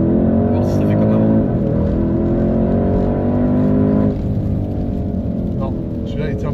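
A car speeding along a road near Monaco, its engine droning loud and steady with rising and falling harmonics as it pushes hard, a shift in tone partway through, with voices talking over it.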